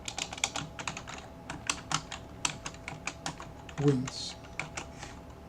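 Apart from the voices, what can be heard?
typing code on a computer keyboard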